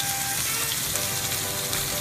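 Duck breast searing in a hot pan, a close, dense sizzle and crackle of fat that holds steady and even throughout.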